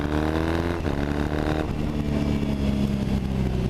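Triumph Thruxton 900 cafe racer running through a MotoVas British Customs slip-on exhaust, a steady throaty parallel-twin burble with slight revving, close and loud throughout.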